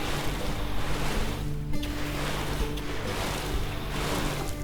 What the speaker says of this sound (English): Obviously, these need water, so I'm going to water them real quick.